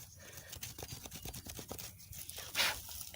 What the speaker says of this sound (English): I'm just going to scratch out a trench